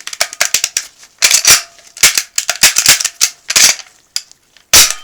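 An HK USP pistol being function-checked after cleaning, with a series of sharp mechanical clicks and snaps from the slide, trigger and dry firing, some in quick pairs and some isolated, close and loud.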